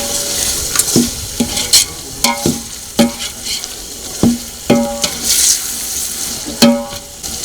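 Chopped tomatoes tipped into onions frying in a pan for Punjabi-style chhole gravy, loud sizzling under repeated sharp clinks and scrapes of a spoon stirring against the pan in an uneven rhythm.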